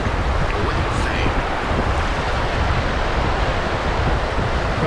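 Ocean waves wash steadily onto the beach at Hilton Head, a continuous broad roar mixed with wind buffeting the microphone, loud and close throughout.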